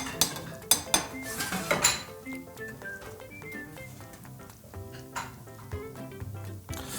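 A utensil clinks and scrapes against a bowl as rice is scooped, a cluster of bright knocks at first, then softer taps and faint ringing.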